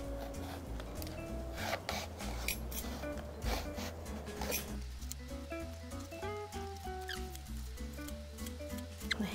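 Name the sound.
thinly slicing an eggplant with a vegetable peeler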